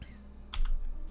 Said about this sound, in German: Schreibt meine Tastatur jetzt gar nicht mehr, oder was?